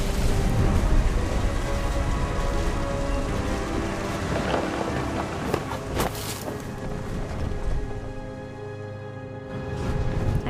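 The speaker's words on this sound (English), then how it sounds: "The thunder sounded much too close and full of angry power." Thunderstorm with heavy rain in the video game What Remains of Edith Finch: steady loud rainfall with deep rumbling thunder rolling through, easing slightly near the end before swelling again.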